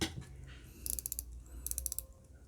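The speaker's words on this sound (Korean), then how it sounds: "이렇게 돌아가면서 클리킹이 되죠" A field watch bezel turning in one direction gives crisp rapid ratchet clicks in two short bursts, close and fairly loud. Faint low handling noise sits under the clicks, and no one speaks.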